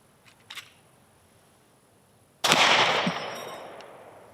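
Two shots from a Kel-Tec PMR30 pistol, a faint sharp pop early on and a much louder blast later that rings out and decays over a couple of seconds, with no talking.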